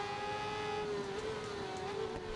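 Motorcycle engines racing in RIDE 4 during a Katana Cup event, a steady high whine with sustained tonal pitch that rises slightly toward the end, heard alone without talk.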